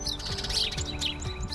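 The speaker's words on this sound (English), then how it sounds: "you just get still and you listen to the birds" Small birds chirp outdoors in a quiet island setting, a few short bright tweets repeating close by with no talk.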